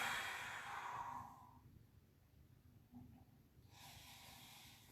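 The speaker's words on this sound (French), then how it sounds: "On expire et on creuse le ventre." A long, steady exhale during a breathing exercise for elderly people with reduced mobility, with the belly drawn in. The airy rush comes close and clear and then fades into quiet. A softer breath follows.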